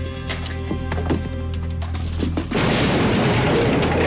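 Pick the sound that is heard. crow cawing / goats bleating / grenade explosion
grenade explosion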